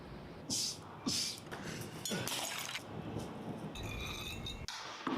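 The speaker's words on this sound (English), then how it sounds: "He broke the glass?" Glass breaking in the Resident Evil game, with several short bright crashes and clinks spread across the clip over a steady background of game noise.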